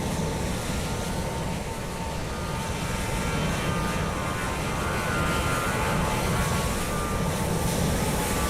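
A heavy airliner roars steadily past in Microsoft Flight Simulator 2020 at Lisbon airport, a loud, unbroken engine rumble that holds for the whole stretch with no talking.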